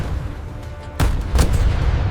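Gunfire from the Pearl Harbor attack: a loud sharp burst at about one second, followed by a second report and a rumbling wash of battle noise, with no talking.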